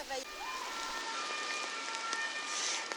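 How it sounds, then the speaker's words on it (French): Heavy rain pours steadily onto a Paris street outside the Closerie des Lilas, a dense, continuous hiss close by with faint tones of passing traffic. "il pleut vraiment beaucoup"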